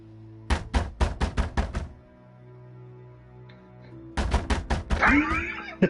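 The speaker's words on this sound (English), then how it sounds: "I hear pounding on the door." Heavy pounding on a door in the video game Little Hope, two loud bursts of rapid thuds separated by a quiet pause, the second burst joined by a strained voice-like sound.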